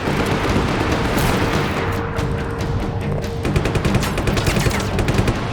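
Loud, dense gunfire and blasts from Just Cause 3, a continuous roar of rapid automatic shots and booming explosions filling the whole stretch, rattling faster toward the end, with no voices.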